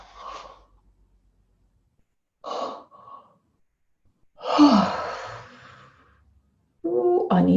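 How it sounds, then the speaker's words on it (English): Deep breaths during a calming tapping session: a short sniff, then a quick double inhale, then a long, loud, breathy exhale up close, ending in a voiced sigh. "Deep breath."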